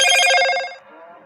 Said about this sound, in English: Notification on my phone went off.